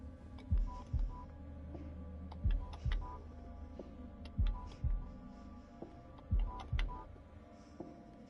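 A heartbeat in The Dark Pictures: The Devil in Me, a steady double-thump pulse repeating about five times, deep and close over a low ambient hum.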